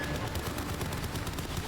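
Sustained rapid turret gunfire in the video game Crysis 3 Remastered, a dense continuous burst of shots at steady loudness with no gaps, heard alone without talk.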